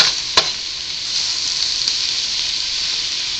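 Minestrone soup ingredients sizzle steadily in a hot pan, a close, continuous frying hiss with a couple of brief scraping stirs near the start.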